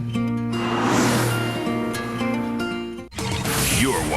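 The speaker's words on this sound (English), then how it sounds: "The 911 Carrera, what only a Porsche brings to driving." A Porsche 911 Carrera engine rumbles and revs steadily for a few seconds, a brief sharp break cuts in, and then other sounds sweep in as it ends.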